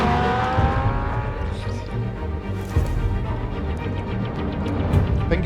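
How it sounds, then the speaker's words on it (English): Car engine in a Batman video game, likened to a Fiat Punto, droning and revving steadily with tire noise, loud throughout, with voices talking over it. "I think it's got a Fiat Punto engine that."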